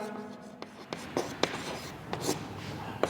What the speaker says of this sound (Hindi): तो इसमें एक लाइन और लिखता हूँ